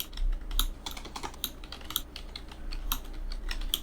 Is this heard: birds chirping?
no